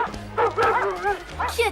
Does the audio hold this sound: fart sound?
no